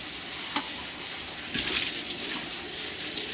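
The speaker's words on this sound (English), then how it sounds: "I'll go ahead and rinse the onions and the board" Tap water runs steadily while onions, a cutting board and a knife are rinsed, a broad continuous splashing hiss with slight surges, close and fairly loud, with no talking.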